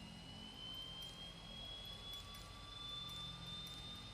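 Aircraft left engine running steadily just after start-up, a continuous jet-like roar with a slowly rising whine, close and sustained, no talking.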